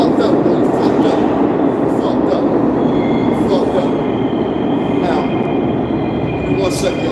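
A train rumbles past in a steady, loud roar with a constant low drone and thin metallic tones and squeals riding over it, and voices are heard talking under the noise.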